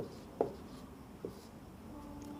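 Chalk or a marker writes "Fe" on a classroom board, giving two short, faint scratchy strokes over quiet room hiss.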